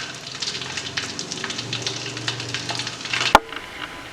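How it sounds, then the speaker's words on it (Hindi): Black pepper and two green cardamom pods sizzle and frying crackles in a mutton handi pot over a raised gas flame while being stirred gently, with a single sharp clack of the spoon against the pot near the end. "इसे हल्के हाथ से हिला लें, बिल्कुल हल्के हाथ से चलाएं इसे"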